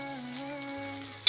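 Crab gravy masala sizzling and sautéing in a pan, a soft steady frying hiss with faint tonal hum, ending in a brief sharper clatter or stir.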